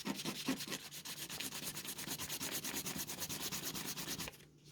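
A scratch card being scratched off, rapid rhythmic rubbing strokes, close and continuous for a few seconds before stopping abruptly.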